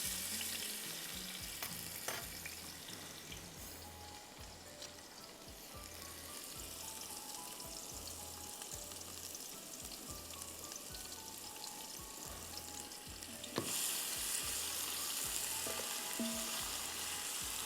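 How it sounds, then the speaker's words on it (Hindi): Onions frying in a pan until golden for egg biryani, a steady loud sizzle that runs throughout with occasional stirring scrapes and a brief sharper burst near the end, no voices. "इसके बाद हम इसमें शामिल करेंगे प्याज और इसको हमको गोल्डन करना है।"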